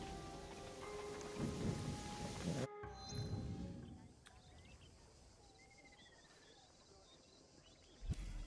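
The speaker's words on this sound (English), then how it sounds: "There's a storm approaching." A thunderstorm in a video game: steady rain and a deep rolling rumble of thunder, a sharp crack around three seconds, then a quieter wash of rain with faint bird calls and a final snap.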